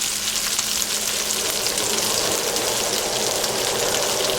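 Hamburger patties fry steadily in a pan, a dense, continuous sizzle with no pauses, close and fairly loud throughout, no voices.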